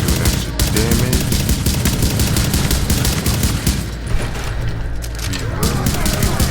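Sustained automatic gunfire with incendiary bullets in the video game The Division, loud steady rapid shots with rumbling impacts, a voice talking beneath the fire.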